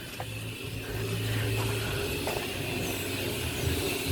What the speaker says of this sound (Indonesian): Nah ini ada mobil terbuka, ini mobil dump truck.